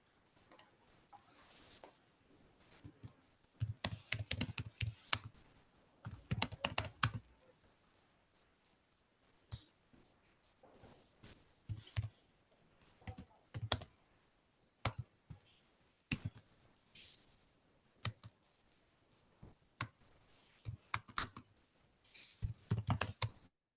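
Computer keyboard typing while a Java program is written during an online interview, bursts of quick close clicking keystrokes separated by pauses, with occasional isolated taps and no talking.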